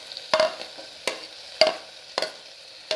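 Beans, carrot and potato sauté in a pan, with a soft steady sizzle under sharp, irregular scrapes of a spoon stirring them, about five strokes over a few seconds, and no one talking.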